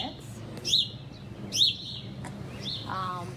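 House sparrows give a few bright, short chirps near a small nest, a pair of clear calls followed by softer chatter, moderately close over a low outdoor hum.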